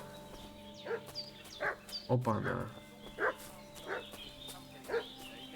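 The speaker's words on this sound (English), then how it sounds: "What's that dog making such a fuss about?" A dog barks in short, sharp yelps, spaced about a second apart at moderate distance in a medieval village in Kingdom Come: Deliverance II, while someone speaks briefly over it.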